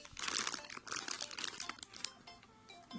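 A small plastic zip-lock bag is handled up close, giving bursts of crisp crinkling and crunching that come and go, louder at first and then softer and more scattered.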